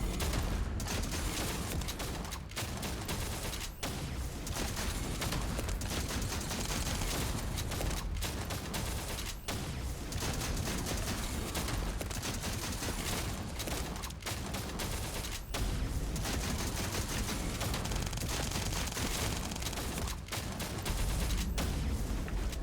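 Rapid fire from the Smithereens shotgun in The First Descendant: a continuous loud barrage of blasts with brief gaps between bursts, sustained for over twenty seconds without talk.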